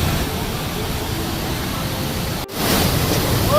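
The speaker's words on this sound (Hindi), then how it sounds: "ये देखिए पानी का जो बहाव है वो बहुत ही ज़्यादा है" Strong river water rushes steadily at Rambara on the Kedarnath trek, a loud broadband roar with a brief dropout and a voice speaking over it.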